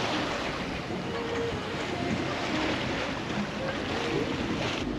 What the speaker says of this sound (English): we enter the pass and the wind is picking up in a way